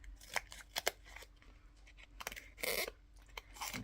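Scissors cutting out the centre of a round foam mount for card-making, with a series of short, close snips and scraping cuts in quick, uneven bursts.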